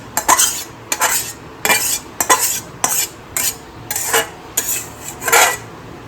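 A spoon scrapes and clinks against a pot while prawn malai curry is served onto a plate, about eight distinct close scoops and taps in an uneven rhythm.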